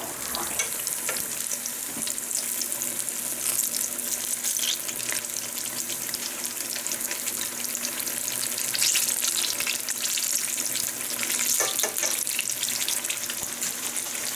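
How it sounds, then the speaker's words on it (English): Japanese eggplant slices frying in a skillet over medium heat, a continuous crackling sizzle with scattered pops and spatters, close and steady for the whole stretch. "Cook the eggplant over a medium temperature until it gets a light golden brown."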